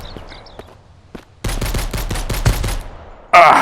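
Survivors in Mist Survival open fire: a few faint isolated shots, then a loud rapid burst of close gunfire, followed by a sharp impact sound at the end.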